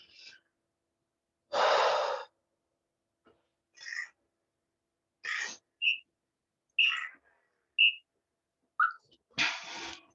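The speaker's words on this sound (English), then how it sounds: "Take a few deep breaths." Deep breaths taken during a short rest break in a strength training circuit workout: several loud, separate breathing bursts with pauses between them, mixed with a few brief, high, whistle-like chirps.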